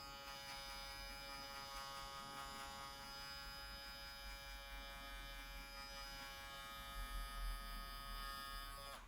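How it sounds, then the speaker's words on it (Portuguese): An electric hair clipper runs steadily while cutting hair upward during a high fade, a continuous close buzzing hum with slight variations in pitch as it moves, with no talking. "Vou marcar aqui com a máquina de corte, de baixo para cima"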